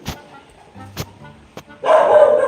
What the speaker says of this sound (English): Let me tell these dogs to put a lid on it.